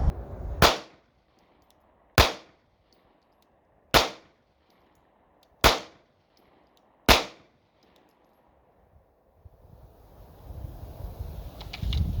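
Five sharp, loud gunshots from a Taurus G3 pistol during accuracy testing at a range, evenly spaced about a second and a half apart, each ringing briefly, followed by wind rumble.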